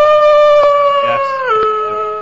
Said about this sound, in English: Is this a wolf?